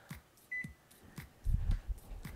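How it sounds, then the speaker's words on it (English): A kitchen timer gives a single short, high electronic beep as it is set, heard faintly amid quiet room noise with some low thumps afterward. "set a timer for about 7 minutes"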